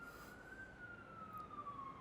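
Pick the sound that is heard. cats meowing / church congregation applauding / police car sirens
police car sirens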